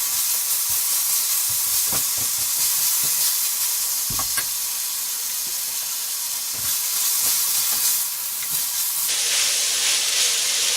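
Broccoli stir-fries with chicken in oyster sauce in a very hot pan, a steady loud sizzle and hiss with occasional clatters of turning, continuous throughout with no voices.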